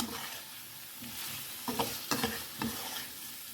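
Spice paste fries in hot oil as a spoon stirs it, a close, continuous sizzle broken by several scraping stirring strokes against the pan near the end.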